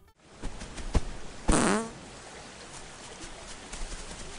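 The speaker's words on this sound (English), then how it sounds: "then proceed to fart on him" A sheep in an animated film lets out a loud, wet, sputtering fart that lasts about half a second, with a couple of sharp knocks before it and quiet background after.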